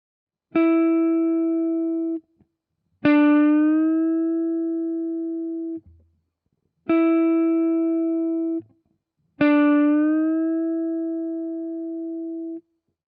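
Four single guitar notes at the same pitch, E on the ninth fret, plucked one at a time. Each rings clean for about two seconds, then falls silent before the next.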